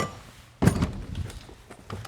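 A heavy-duty drawer slams shut with one solid, close thunk, followed by faint clatter and rattle as it settles.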